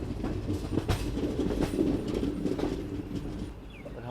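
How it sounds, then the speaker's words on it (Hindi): The Garib Rath express heads toward Jammu, its wheels rumbling and clattering over the rails in a steady, fairly loud run, with a faint squeal near the end. "हमारी ट्रेन निकल चुकी है जम्मू की तरफ"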